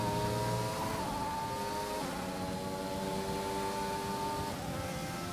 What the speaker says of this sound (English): In the 2021 game, I feel like you hear a little bit more of the whistle of the turbo